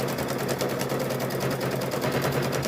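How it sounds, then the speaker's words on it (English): A sewing machine stitches macrame rope in a fast, steady needle rhythm with a low motor hum, close and continuous for the whole stretch with no talking. "I'll get this sewed up here, and then we'll stop it"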